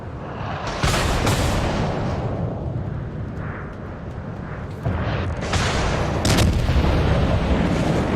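Heavy warship guns in a naval battle game, booming dense barrages rolling continuously with sharp blasts breaking through, loud and sustained throughout, no speech.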